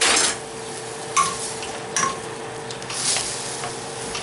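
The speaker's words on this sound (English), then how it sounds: "I'm putting some butter in here" Butter sizzles and crackles in a hot pan at the start of a lemon butter sauce, a steady hiss with a few sharp clinks of a utensil against the pan.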